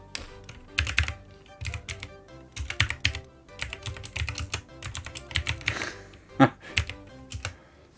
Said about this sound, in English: my typing's gone to shit